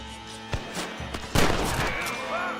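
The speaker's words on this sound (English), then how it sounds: "Bro, where is he shooting?" Gunfire in Red Dead Redemption on PC: a few sharp, loud shots crack out with short gaps between them, then a heavier blast is followed by a lingering echo, with no talking during the shots.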